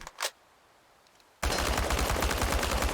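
Rapid automatic gunfire blasting at tin can targets in the game Chernobylite, a dense, loud sustained burst that kicks in suddenly after a quiet stretch with a brief soft sound near the start.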